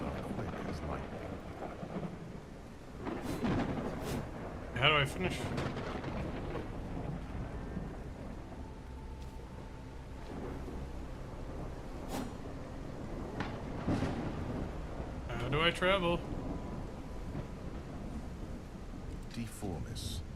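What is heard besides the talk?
thunderstorm with rain in a video game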